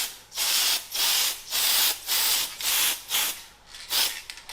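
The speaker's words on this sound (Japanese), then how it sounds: "ラッカースプレー、缶スプレーの黒を塗ってガイドコートとして研いでいきます" Black lacquer spray paint hisses from an aerosol can as a guide coat on old original aluminium parts of a Caterham Super Seven 30, in about seven steady bursts with brief gaps, close and loud.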